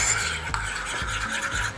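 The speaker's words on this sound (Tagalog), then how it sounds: "Halo lang natin siya ng maayos." A spoon scrapes and swirls through a Japanese mayonnaise sauce seasoned with pepper and salt, giving a continuous close, wet stirring rasp with a few light knocks against the bowl, no voices.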